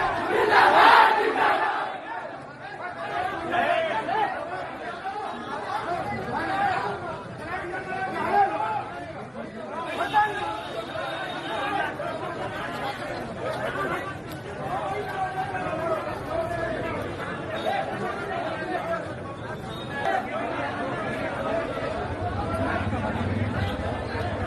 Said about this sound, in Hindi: मुख्तार अंसारी के लिए कैसे नारे लगे